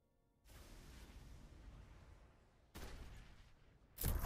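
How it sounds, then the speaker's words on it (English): Missile salvos launching in the space strategy game Galactic Civilizations 4, a broad rushing burst that sustains, then a second louder volley and a sharp third blast, heard alone without speech. "Hit it with the missiles."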